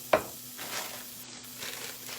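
Onions hit a hot pan for chicken fried rice, a sharp sizzling burst at the start that settles into a steady frying hiss with soft stirring scrapes.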